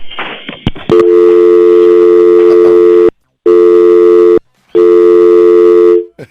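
A loud telephone busy signal: a steady electronic tone that repeats in long bursts separated by short silences, after a brief crackle of line noise at the start.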